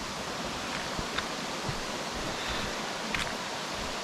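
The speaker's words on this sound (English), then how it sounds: "And the water runs real fast down this way." Fast-running stream water pouring down a rocky course near a dipping pool outdoors, a steady, full rushing wash that stays loud and even throughout, with no voices.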